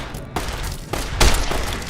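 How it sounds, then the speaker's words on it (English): Several gunshots fired in Fallout: New Vegas, sharp loud bursts spaced irregularly over a couple of seconds, the last one heaviest and booming. "Look at how many bullets to the head he can take"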